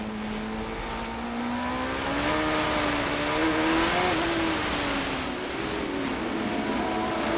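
A 1997 CART IndyCar race car driven by Michael Andretti at Portland on a damp track, its engine wailing steadily with rising and falling pitch as it passes fairly close. There is no talk.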